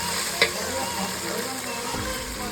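Chicken for Chettinad chicken fries in a pan, a steady low sizzle with a brief clink near the start, close and continuous, with no talking.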